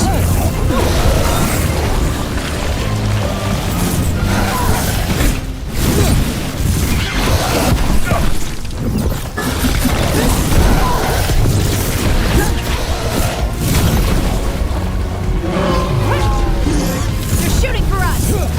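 Combat in the video game Dragon Age: The Veilguard, dense and loud with repeated booms, crashes and whooshing impacts over a constant rumbling score, with voices speaking intermittently.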